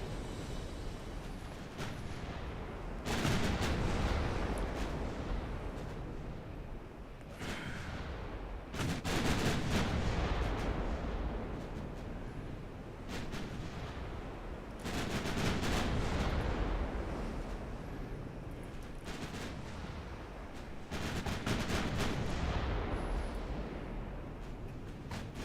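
Heavy 15-inch battleship guns firing in the naval game Ultimate Admiral Dreadnoughts: a run of loud, booming salvos, each sharp blast followed by a long rolling rumble that fades, over a constant low background roar.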